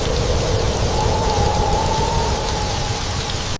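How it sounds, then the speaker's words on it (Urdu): Light rain patters in a steady wash on a taxi roof at night, with a faint tonal hum running through the middle, then cuts off abruptly at the end. "ہلکی بارش کی بوندیں ٹیکسی کی چھت پر ٹپ ٹپ کر رہی تھی"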